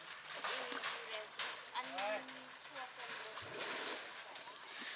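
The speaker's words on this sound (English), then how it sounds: "the elephant is going into the water to extract the excess heat that it has in its body" An elephant wading into water near Phuket, with soft splashes and sloshing close by under steady outdoor background noise while people talk throughout.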